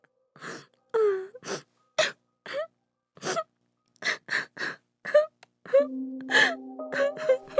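A woman crying in broken, gasping sobs that come in short bursts separated by silence, then swell into a sustained, drawn-out wail near the end; close and fairly loud with no speech.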